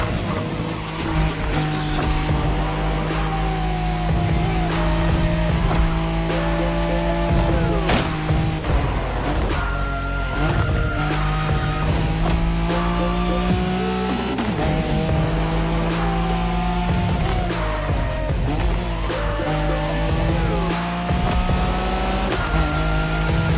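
Nissan Skyline racing in The Crew Motorfest, its engine roaring loud and continuous through repeated gear shifts, with bursts of tire squeal and skidding through corners.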